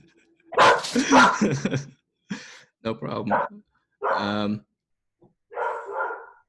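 A dog gives several short, close barks and yips in separate bursts with pauses between them. A person speaks briefly among them.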